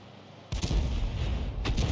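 A tank gun fires in a video game during a close-range fight with a Jagdpanzer IV, landing a single heavy boom with a long rumbling decay, followed by a second, sharper crack just over a second later.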